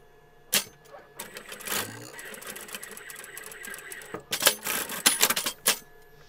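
A sewing machine stitches a seam on a doll's dress with elastic smocking, running in several short, rapid mechanical bursts separated by pauses, close and clear, with someone speaking between the runs.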